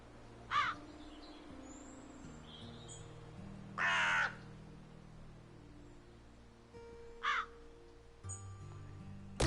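Crow caws from the Wytchwood game, set in a swamp: three short harsh calls spaced a few seconds apart over a low ambient drone, moderately loud and alone.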